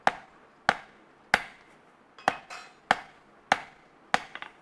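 Hammer blows on hot metal at an anvil as a point is forged: seven sharp, ringing strikes land about every half second to second, close and loud, with a light rebound tap after the last one and no talking.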